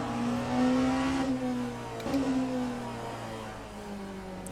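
Cadillac hypercar engine in the Le Mans Ultimate racing game, a steady droning tone that rises briefly then settles, with a short dip and recovery mid-way, loud and close throughout with no talk.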